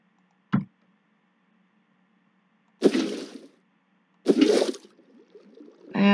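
Water being set down in a video game: a brief click, then two loud splashy gushes of water a second or so apart, each fading quickly, with no talk over them.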